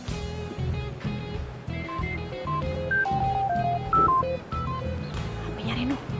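A string of telephone keypad dialing tones, single beeps stepping through different pitches at an uneven pace, rising out of background music.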